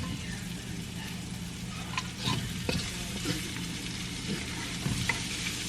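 Garlic fries in oil with a steady close sizzle, joined by occasional scraping clicks of a utensil stirring the pan, continuing evenly without speech.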